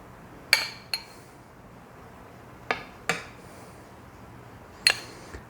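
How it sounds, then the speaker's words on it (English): Light taps of a utensil on top of sour cream pumpkin cake batter in a pan, six sharp clinks in loose pairs, fairly close against a quiet room. "I'm going to take this and sort of tap this around on the top of my cake"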